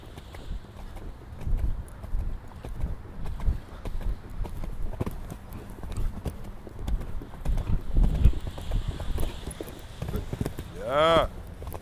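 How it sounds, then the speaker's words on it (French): A horse galloping in a riding arena during a training session, hooves thudding in a quick, rhythmic clip-clop under a trainer's spoken instructions, with occasional louder footfalls and a brief whistle-like sweep near the end. "Galope un peu."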